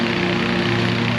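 Steady, droning engine of a lawn mower running continuously at close range, a constant hum with strong low tones and no pauses throughout.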